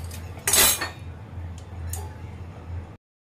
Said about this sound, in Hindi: तो मैंने सारे बर्तन साफ़ कर लिए हैं